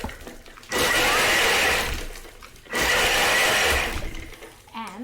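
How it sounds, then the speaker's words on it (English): A Thermomix on turbo blitzes ginger and lemon in two loud bursts, each roughly two seconds of roaring, whirring blending, with a short quieter pause between them and after. "Okay, it looks like a turbo again. Let's see, turbo, and it says 3 times again."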